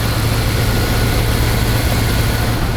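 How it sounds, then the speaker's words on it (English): A Dodge Ram engine runs steadily after a head replacement, a loud, close, continuous idle with a deep low rumble and no talk over it. "so as you guys can hear, there's an engine running"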